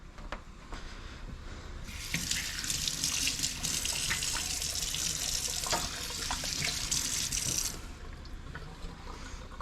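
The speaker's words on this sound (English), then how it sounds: "Let's just get the hands washed." Hands are washed under a running kitchen tap, a steady rush of water that starts after a couple of seconds and runs for about six seconds, with splashing as the hands move, then stops.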